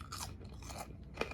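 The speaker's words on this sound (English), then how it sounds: "You can hear that crunch." Crunchy maple caramel popcorn being chewed, a few faint, close crisp crunches with a sharper bite near the end, recorded quietly.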